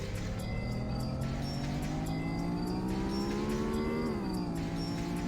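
A car engine accelerating in Need for Speed on the Sony PlayStation, with a steady rising engine whine climbing in pitch that dips briefly around the fourth second as the car shifts gear, all under constant game noise.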